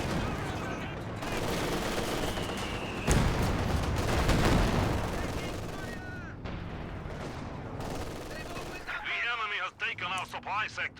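Heavy gunfire from a World War II shooter video game in a competitive match, with dense bursts of rifle and machine-gun shots and booming blasts continuing throughout, loud and close.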